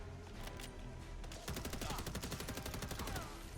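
A suppressed Bushmaster ACR rifle in Fallout 4 firing rapid, continuous automatic bursts, a dense rattling stream of muffled shots that grows heavier partway through, with faint game effects around it.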